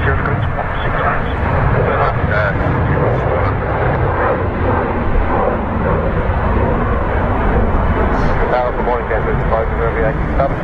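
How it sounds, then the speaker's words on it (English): A Jet2 Boeing 737-800 on approach to land at Manchester Airport gives off a loud, steady engine roar that fills the whole stretch and stays even in strength. "Jet 2, 737-800."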